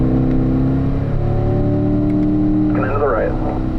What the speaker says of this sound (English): start accelerating off of the corner